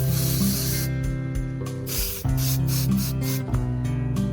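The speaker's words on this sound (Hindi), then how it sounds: "स्प्रे कर दिया दोस्तों।" An aerosol can sprays a continuous loud hiss onto adhesive for a DIY glowing lamp, with brief breaks between the spray bursts and a low background hum.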